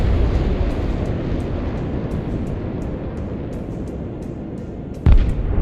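A volley of ballistic missiles in the Broken Arrow video game: a sustained low rumbling roar with crackling bursts, ending in a sudden sharp blast near the end, loud and without talk.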